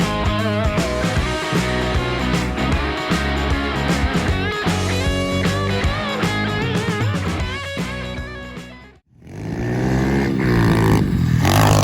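Pit bikes and four-wheelers ridden outdoors around a small jump at a new build site: loud, continuous engine buzzing and revving, a sudden brief drop, then an engine rising again.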